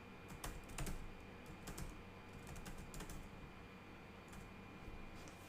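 Typing on a computer keyboard, quick irregular clusters of light key clicks with short pauses, close and fairly quiet.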